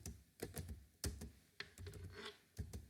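Typing on a computer keyboard, a handful of distinct key clicks in an uneven rhythm, close and fairly quiet.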